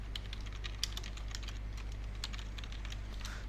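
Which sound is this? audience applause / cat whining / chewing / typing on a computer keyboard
typing on a computer keyboard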